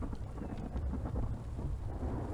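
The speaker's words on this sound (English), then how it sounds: "And we've got a thunderstorm." A thunderstorm in the survival game The Infected rumbles low and steady with rain and wind, a continuous dull roar without distinct claps.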